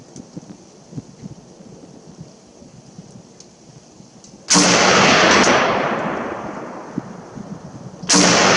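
Two loud, sharp gunshots from an HK 93 rifle fired outdoors on a cold day, the first followed by a long rolling echo that slowly fades before the second shot cracks out.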